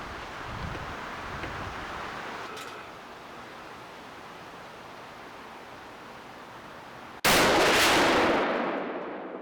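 A single loud gunshot fired at a target outdoors, a sharp blast near the end that rings out and decays over steady wind noise.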